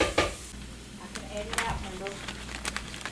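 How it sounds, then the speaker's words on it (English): Flatbread sizzles on a hot griddle with a soft steady crackle, punctuated by close scraping and tapping of a utensil, while a person talks over it. "I'm going to start cooking it on the grill, see how it turns out."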